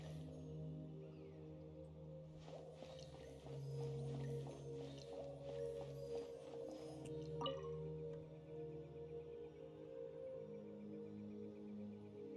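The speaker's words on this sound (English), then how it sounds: "Oh, we're walking on the water." Soft splashy footsteps on water in the video game Genshin Impact, a few light steps heard over a sustained tonal music bed with faint chiming accents.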